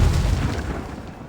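Pyrotechnic rigs set off for an explosion scene in a film shoot, a single deep boom with a rumbling low tail that fades over about a second.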